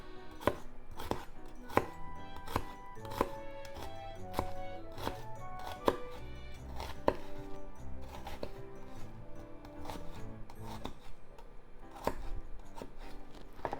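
A knife minces a freshly peeled ingredient on a cutting board, making quick, regular knocks on the board that continue steadily, close and clear, with no voices.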